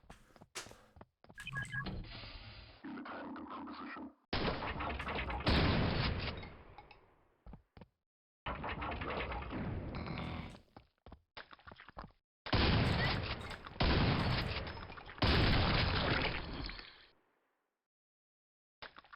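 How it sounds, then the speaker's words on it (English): Shotgun fire and combat in Quake come as loud, abrupt bursts of gunfire in separate blocks with short silent gaps between them, all close and harsh, with no talking. "But I do have a shotgun now"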